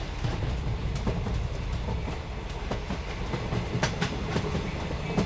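A train on a Russian railway carrying T-90M tanks rolls past with steady rumbling and repeated clickety-clack of wheels over rail joints, continuous and fairly loud without voices.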